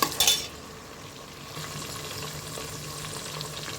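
Green chilli slices for matar pulao hit hot oil with a sharp crackling burst, then settle into a steady close sizzle of frying that continues evenly.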